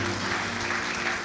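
A church congregation at a worship night in Malang cheers and claps together, a dense, steady wash of applause and voices filling the room, heard at a moderate distance.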